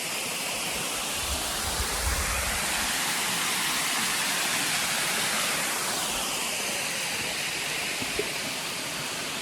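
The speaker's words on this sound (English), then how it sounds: "Little waterfall right there." Small waterfall spilling over a rocky stream in the Ozarks, a steady, dense rush of water that stays loud and even throughout, with no voices over it.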